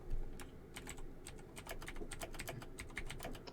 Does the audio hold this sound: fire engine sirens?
no